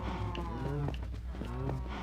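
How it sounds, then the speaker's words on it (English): Cows from a herd in Minecraft Bedrock Edition mooing, several low drawn-out calls overlapping across a couple of seconds, close and clear over a steady low background hum, no talking. "my herd of cow"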